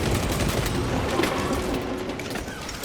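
Dense, rapid heavy bolt rifle fire in the Space Marine 2 video game, a continuous stream of loud overlapping shots and explosive impacts with no pauses.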